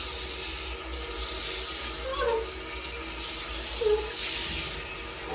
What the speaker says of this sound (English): I'm gonna grab my shower head and just kind of wet my hair a little.